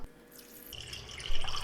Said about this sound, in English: to this, we're going to add 4 cups of water